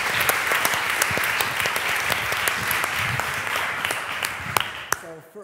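An audience applauds to welcome the speakers at a public lecture, sustained dense clapping filling the hall for several seconds before it stops abruptly.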